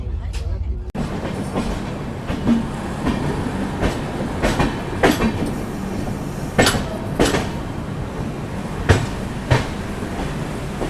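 Aboard a moving passenger train, a steady rumble fills the cabin with a regular clickety-clack of wheels over rail joints, loud and close, and a few sharper knocks recur.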